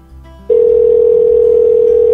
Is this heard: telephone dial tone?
yes